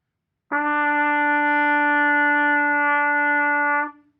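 A single sustained trumpet E note, played with first and second valves, held steadily for about three and a half seconds, clear and close, with a rich stack of overtones and no talking.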